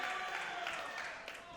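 Crowd at a wrestling event in Florence, Alabama, giving a broad, sustained wash of cheering and applause that stays fairly faint and steady throughout.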